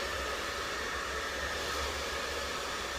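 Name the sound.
hair dryer blow drying on cold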